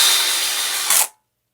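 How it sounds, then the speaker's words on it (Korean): A power drill drives screws into a multi-outlet power strip during assembly, giving a loud, steady whirring buzz that runs close up and then stops abruptly. "드릴로 이제 1이나 2 정도 놓고 잠그시다가 이제 멈추면 또 더 잠그고 그러면 되겠죠."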